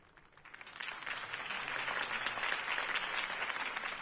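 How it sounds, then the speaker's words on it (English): Crowd applause during a political campaign speech in Batman: The Telltale Series, a sustained wash of clapping from many hands that swells in after a brief quiet start, fairly faint and with no voices over it. "If only Mr. Wayne, my campaign's largest backer, could have heard that applause"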